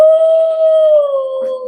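A plastic Halloween dog prop lets out a long electronic howl, one sustained steady tone that dips slightly in pitch near the end, loud and close.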